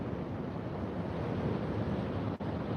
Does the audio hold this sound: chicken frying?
no